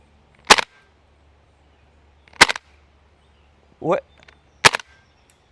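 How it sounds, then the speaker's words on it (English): KWA F90 airsoft rifle firing: three sharp, close single shots spaced a couple of seconds apart, with a brief spoken word between them. "And I guess we'll put through our first shots."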